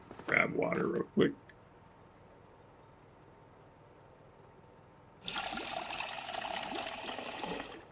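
Water being collected in Project Zomboid: a short burst of splashing at the start, then a quiet gap, then a steady running trickle of pouring water that continues to the end, with a voice talking over it.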